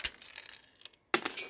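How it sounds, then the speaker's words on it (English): Loose bits of broken glass chink and clatter as they are cleared out of a scrap car, a few short bright clinks with a brief pause, then a fresh rattling burst, close by. "I'll get rid of all this loose bits of glass here"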